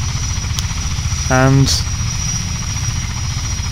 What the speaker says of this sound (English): Mi-24 I believe it's called. But it's the Hind.